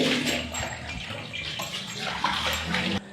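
Water thrown and splashed repeatedly across a temple floor as it is washed, a steady, dense rush and slosh close by with scattered sharper splashes.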